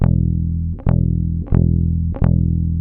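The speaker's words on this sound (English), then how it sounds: "If I play the E string really loudly," Loud bass guitar E string plucked hard four times in a steady rhythm, each note ringing with a strong low sustained tone right up to the next pluck, close and alone with no talk.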